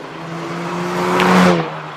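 A Cadillac ATS drag car launches hard at a spectator drag racing event, engine note climbing loudly over about two seconds with a brief rising whine near the peak before it fades away.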